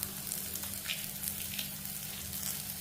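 Ginger and green chili sautéing in a pan with curry leaves and asafoetida, a steady, close, even sizzle that holds throughout with no talking.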